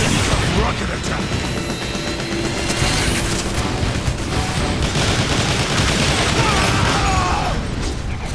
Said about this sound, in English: Rocket attack!